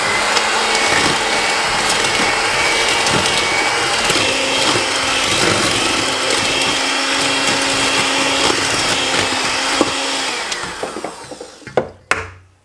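An electric mixer whirs loudly and steadily through chocolate chip cookie dough in a home kitchen, a constant motor drone that winds down and stops near the end, followed by a few clunks.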